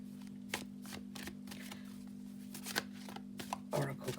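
Oracle cards are shuffled and laid down in a tarot and oracle reading, soft close riffling and light taps over a steady electrical hum, with a few brief louder slaps near the end.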